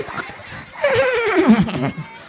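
A voice mimics a horse's whinny, a rising then falling wavering neigh about a second long, close and loud, with a short murmur of talk just before.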